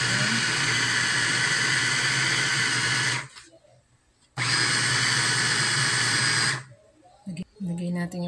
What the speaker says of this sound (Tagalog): Food processor natin.